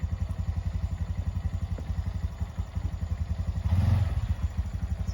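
A Honda Trail 125 motorcycle pulls away in first gear, its steady single-cylinder putter close and continuous, swelling briefly louder near the end as it rolls forward.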